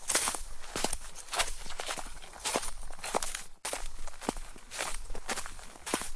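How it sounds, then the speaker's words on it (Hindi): Footsteps of someone approaching from a distance, a steady run of crunching steps on a rough surface that keep a fairly even pace and stay moderately loud throughout, with no voices. "तभी दूर से किसी के आने की आवाज सुनाई दी"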